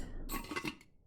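A lid is set onto a cooking pot in the video game Venba, giving a short, soft metallic clink with a brief clatter of cookware, heard close and quiet with no talking.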